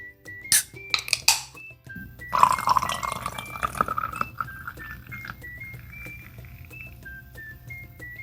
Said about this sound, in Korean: 그리고 마지막 탄산수 가득.